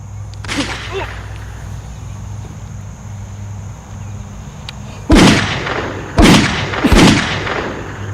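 Three sharp, loud gunshots crack close by in quick succession in a dramatic scene, after a quieter stretch with a faint earlier crack.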